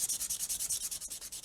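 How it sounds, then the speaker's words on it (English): Sandpaper scrubs rapidly back and forth over a tough metal edge on a model kit, a close, rhythmic series of about a dozen even rasping strokes with a brief pause near the end. "let's give that some sanding"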